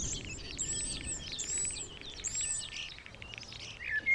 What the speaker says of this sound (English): A male starling proclaims his readiness to mate with an elaborate song.